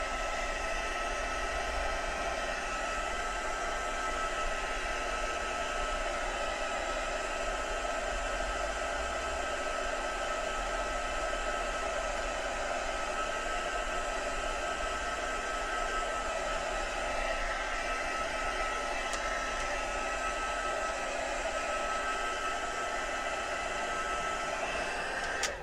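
A hair dryer blows steadily on wet splattered paint, a loud, continuous whooshing roar with a high whine that holds unbroken throughout and no talking.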